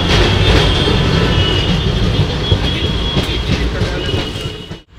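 The Uttarbanga Express rumbles steadily at Dakshineswar station, loud and close, with rolling wheel noise, faint rhythmic clatter and a light metallic hiss before the sound cuts off abruptly.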